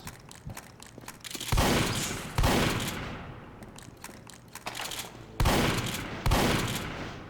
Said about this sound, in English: The shotgun feels nice, man.